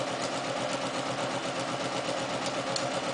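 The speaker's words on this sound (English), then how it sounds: "put in that row of stay stitching" A sewing machine runs a row of stay stitching along the raw edge of a sleeve hem, a steady rapid whirring hum with fine rhythmic needle ticks, close and continuous with no talk.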